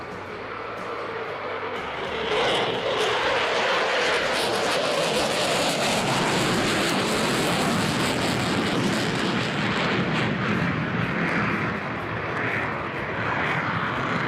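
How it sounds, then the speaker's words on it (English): F-35A fighter jet at an air show climbing vertically on engine thrust alone, a loud continuous roaring engine that swells and holds steady for many seconds without speech. "The first maneuver will be in vertical, with an impressive climb held purely in engine thrust"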